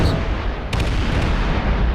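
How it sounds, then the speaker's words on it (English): Explosions in the space-building game Space Engineers, heard as a dense, continuous low rumbling roar with a sharper burst near the middle, loud and sustained throughout with no talking. "as you saw there were actually 3 explosions"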